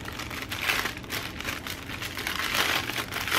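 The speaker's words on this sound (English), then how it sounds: "Sorry if you don't like the crinkle." Plastic packaging holding journal trims, appliques and supplies crinkles steadily at close range, a continuous rustle with brief louder crackles and no speech over it.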